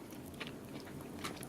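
Close, quiet chewing of a cooked crocodile steak, with soft moist bites and a few sharper crunchy clicks over a brief moment.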